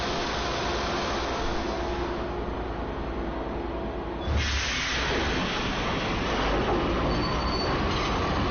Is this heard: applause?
no